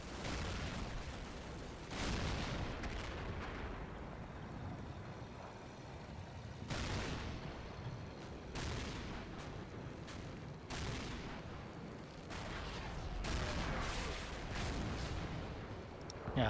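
Tank gunfire and shell impacts in the WWII tank game Combat Mission, with Shermans in the fight: a series of sharp booms and crashes at irregular intervals over a low rumbling battle background, some hits loud and close.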